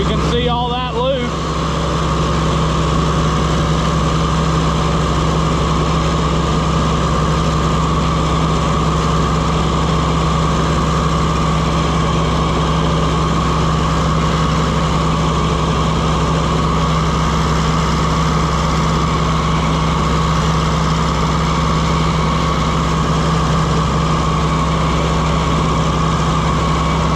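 An Oliver 550 tractor's diesel engine runs after a new injection pump install, a loud, close, continuous idle with a steady low throb that holds unchanged throughout, after a brief clatter at the start.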